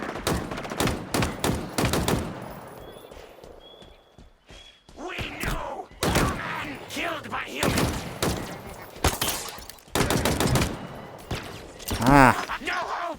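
Rapid bursts of gunfire and impact hits from a firefight in the video game Halo Infinite on Legendary difficulty, loud and dense, with brief pauses between volleys and a voice shouting over them.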